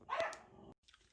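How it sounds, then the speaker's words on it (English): Dogs barking loudly indoors, a sharp close bark burst followed by a brief pause and a fainter yip, with no one speaking. "my dogs are barking and they're really loud"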